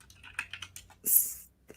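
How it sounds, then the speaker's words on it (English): Quick taps on a computer keyboard in a quiet room, a short cluster of light clicks followed by a louder sharp keystroke and a final faint tap. "What are you typing right now?"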